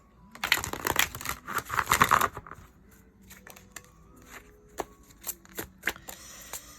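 A new deck of oracle cards being shuffled and handled, a dense burst of riffling flutter for about two seconds followed by scattered crisp taps and slides as single cards are drawn and laid down.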